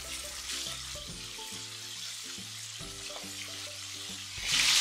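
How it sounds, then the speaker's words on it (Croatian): Stuffed meat rolls fry in oil in a pan over medium heat, giving a steady, close sizzle and crackle that runs the whole time without any voices. "Rolice sada ovako ispržimo sa svih strana da postanu baš onako fino hrskave"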